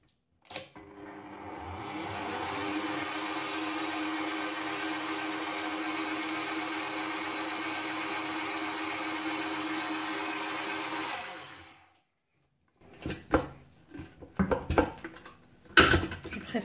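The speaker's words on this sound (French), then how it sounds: "maintenant, on va tout fouetter jusqu'à ce que ce mélange devienne comme une crème chantilly au mascarpone" An electric mixer whips a white chocolate and mascarpone ganache into a steady, loud whir for about eleven seconds. The mixer then stops, followed by a few sharp clinks and clatters of bowl and utensils.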